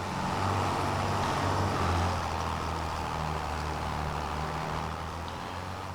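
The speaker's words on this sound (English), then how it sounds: "let's take this tractor" A tractor in Farming Simulator 25 drives along with a steady, low engine rumble and broad mechanical noise, holding an even level throughout with no voices.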